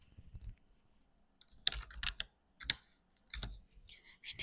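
Computer keyboard typing and mouse clicks while searching for an effect in Premiere Pro's effects search bar; a few sparse, close clicks and short bursts of keystrokes separated by quiet pauses.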